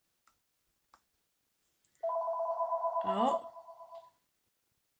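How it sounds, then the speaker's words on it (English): A home telephone rings with a sustained electronic warble lasting about two seconds, close and clear in a quiet room, with a brief spoken exclamation just before. "it's the daily phone call"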